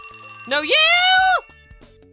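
A cell phone ringtone chimes for about a second as a single bright, sustained melodic tone that rises and then holds, heard between short bursts of speech.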